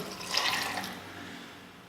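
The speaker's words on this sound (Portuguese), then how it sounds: "Coloco um pouco de água antes, vou colocar um potinho de água" A small pot of water is poured into a cooking pan for a peanut and grated coconut sweet, a brief close splash and gush that tails off quickly, with no talking.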